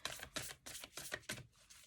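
Oracle cards being shuffled by hand, a run of quick papery riffling bursts repeating in an even rhythm, close and fairly soft with no talking.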